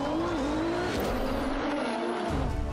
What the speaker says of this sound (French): et la symphonie d'un 6 cylindres